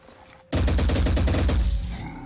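Paralysis pistols firing in the Phoenix Point strategy game, a sudden loud burst of rapid repeated shots that starts abruptly and rattles on for well over a second before trailing off, with no talking.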